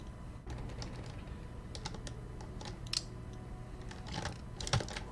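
A computer keyboard's arrow keys are spammed during a Harry Potter 2 PC speedrun, producing quick, uneven bursts of light plastic clicks. The taps cluster in rapid flurries with brief gaps, close and fairly quiet.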